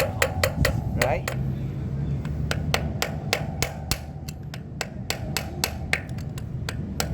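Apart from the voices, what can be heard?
whacking flat screwdriver to unscrew Brompton hub anti-clockwise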